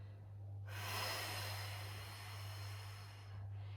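A long, breathy exhale during an abdominal workout, steady and close, running for a few seconds over a constant low hum and ending in a short pause before the next breath.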